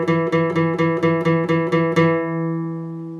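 A guitar note fretted at the 7th fret of the A string for a riff, struck eight times in a brisk steady rhythm, then allowed to sustain and decay, close and alone.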